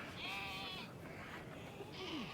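Two sheep bleats ring out on a farm, a longer wavering one followed by a shorter one, over steady outdoor background noise.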